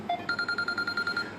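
Mobile phone ringing nearby with a rapid electronic trill, a quick run of bright, evenly pulsed beeps repeating for about a second.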